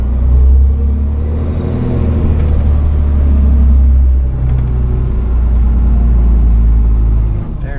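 A Volvo 6x6 dump truck backs slowly along a farm ditch, its diesel engine a loud, steady low rumble at close range that swells slightly as it works, with faint clicks on top and no talking.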